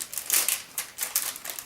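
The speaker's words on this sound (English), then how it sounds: "it comes with a little resealable plastic bag sticky edge here that you can open up" A little resealable plastic bag with a sticky edge, part of a folding flask kit, is pulled open with brisk crinkling and crackling bursts, close and fairly quiet.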